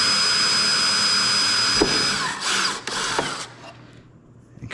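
A drill whirs steadily while center-drilling a part for a Bandit Models Diamond Back, a sustained mechanical whine with a couple of sharp clicks partway through, then the motor winding down and going quiet near the end.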